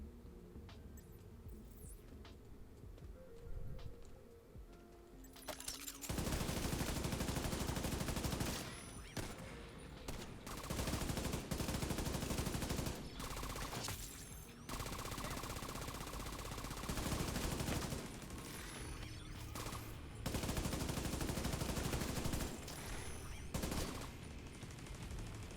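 Sustained bursts of automatic turret gunfire in the shooter game The Division 2, loud and dense rapid-fire volleys starting a few seconds in and repeating with short gaps, no voices.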